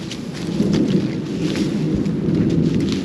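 Rolling thunder from an approaching storm rumbles continuously over steady rain, loud and close around an abandoned plantation house, with no voices.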